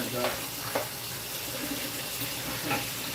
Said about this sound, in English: I got dirty hands, so wash them off. Wash, hot. Scalding hot water.